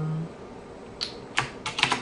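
Someone types code on a computer keyboard, a few scattered keystrokes followed by a quick cluster of close, crisp clicks, with no voices.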